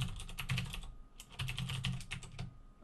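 Fingers typing code on a computer keyboard in quick, irregular bursts of soft clicks with a brief pause in the middle, heard close but quiet, with no voices.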